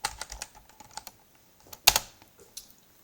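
Computer keyboard typing a build command, rapid light key clicks in quick irregular bursts, then a pause and one sharp loud keystroke like Enter, followed by a few scattered taps, close and alone.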